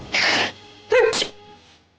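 A single sneeze from a person in an indoor scene, a short breathy burst followed a moment later by a sharper second burst, close and clear with no talking over it.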